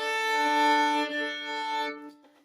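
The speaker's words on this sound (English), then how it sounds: "use my fine tuners to find the correct D like this." Two violin strings are bowed together in a sustained, resonant double stop while tuning the D string with fine tuners, held for a couple of seconds before fading away, played alone and close.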